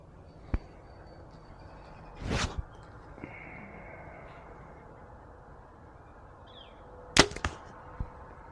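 Arrows shot from a hunting bow with a True Ball Max Hunter thumb release: two sharp release snaps, each followed by a brief whoosh and a distant thud at the target, set apart in quiet outdoor surroundings with faint clicks between.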